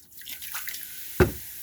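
White vinegar is poured into running water in a kitchen sink to clean vegetables, giving a steady watery wash with a sharp splashing drip standing out near the end.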